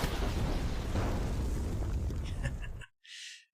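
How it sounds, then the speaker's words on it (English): A cartoon explosion sound effect plays as a loud, sustained rumbling blast for nearly three seconds, then cuts off abruptly before a short hissing burst. "Think we're going to need the explosion animation."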